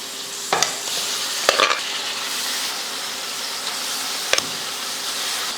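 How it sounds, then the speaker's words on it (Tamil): Boiled goat intestine sautéing in oil in a pan, a strong steady sizzle punctuated by a few sharp clacks of a spoon stirring against the metal. "இந்த எண்ணெயில் கொஞ்சம் போட்டு நல்லா வதக்கி விட்டுறணும்."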